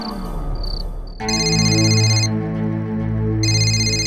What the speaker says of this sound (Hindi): टप्पू प्लीज फोन उठाओ यार